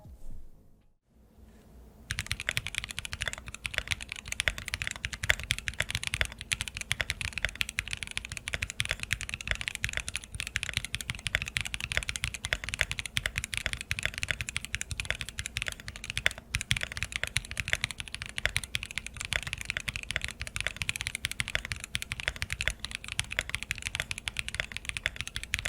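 Steady, fast typing on a Bakeneko65 mechanical keyboard fitted with neoprene, PE foam and EVA plate foam. A dense stream of soft, close-up key clacks begins after a brief quiet start and runs on without talk.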